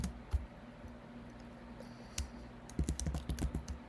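Typing on a computer keyboard, soft key taps at first that give way to a quick, clattering burst of keystrokes near the end, close and clear over a faint steady hum.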